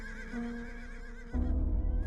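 A horse whinnies in a long, wavering neigh, followed by a sudden low rumble that takes over as the call fades.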